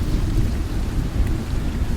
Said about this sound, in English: I hear the dull rumble of thunder